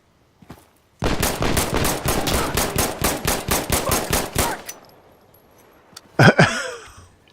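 Rapid automatic gunfire from the shooter game Insurgency: Sandstorm, a sustained burst of about a dozen sharp, loud shots in quick rhythm, then quiet and a final short double crack.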